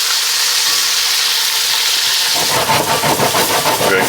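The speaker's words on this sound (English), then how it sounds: "We're gonna get that garlic toasted up a bit" Garlic toasting in a pan with onions and oregano for chicken cacciatore, a loud steady sizzle that turns busier and crackling as the food is stirred partway through.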